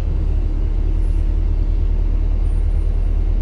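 A flat-nose bus creeps forward with a steady, loud low engine rumble, continuous and close, with no talking.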